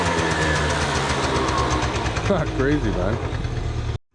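Small scooter engine idling steadily after its idle screw has been adjusted, a continuous close mid-pitched rumble with a light knocking patter, as someone speaks briefly over it.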